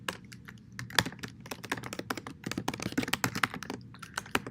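Rapid keystrokes rattle on a computer keyboard as C++ code is written, with uneven bursts of clicks and short pauses, fairly quiet and close, with no voice.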